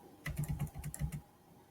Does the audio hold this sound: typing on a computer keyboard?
yes